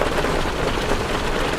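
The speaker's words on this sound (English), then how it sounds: "What you're hearing is Hardie Fiber Cement Siding living up to its reputation as the siding that handles hail impact with ease" Hail pelts Hardie fiber cement siding in a dense, loud, continuous patter of rapid impacts, a steady rain-like clatter with no voices.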